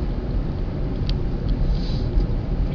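Low, rumbling road noise from inside a car driving along a short commute, a steady muffled drone with slight wind buffeting and no talk.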